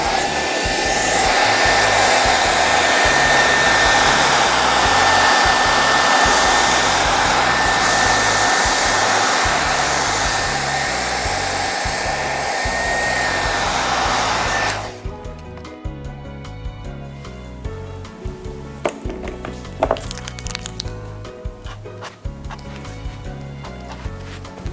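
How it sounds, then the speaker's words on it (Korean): Hair dryer blowing on a Scandia moss cart craft, a steady loud whoosh for about fifteen seconds, then it switches off, leaving quiet handling and small clicks. "시간 전략을 위해서 드라이기로 말려줍니다"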